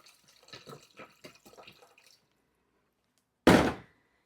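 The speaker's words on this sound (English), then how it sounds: "I'm going to go in with my filtered water." Filtered water is poured into a cooking pot in one short, loud splashing gush lasting under a second. It comes after a stretch of soft voice and then a quiet pause.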